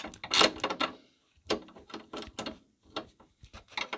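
A 17mm ratcheting spanner clicks as it turns the rear anti-roll bar drop link nut on a Ford C-Max, working at an awkward angle. Close, sharp bursts of ratchet clicks come in several short runs separated by brief pauses.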